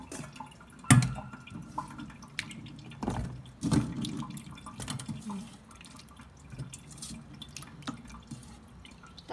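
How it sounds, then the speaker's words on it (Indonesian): Bitter melon being rinsed clean under a running kitchen tap, with intermittent drips, splashes and water spatter in a sink, fairly close and moderately quiet, with no talking. "Kita cuci yang bersih ya teman-teman."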